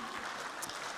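Church congregation cheering and clapping during a worship service, a dense wash of applause and voices lasting about a second, fairly quiet and steady.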